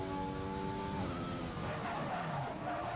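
Formula racing car in a video game locking its tyres under heavy braking at the Canadian Grand Prix, a sustained engine whine sliding into a loud rough screech that runs on for several seconds, close and continuous.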